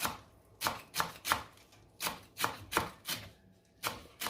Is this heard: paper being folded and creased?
no